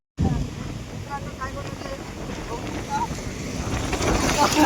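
Strong wind buffets a microphone outdoors in the evening near a boat on open water, a steady broadband roar that grows louder toward the end, with faint voices underneath.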